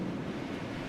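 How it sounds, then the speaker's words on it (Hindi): A strong wind dies down in a steady, continuous low roar with a surf-like rush, holding an even level throughout with no voices. "तेज हवा धीरे धीरे शांत होने लगी।"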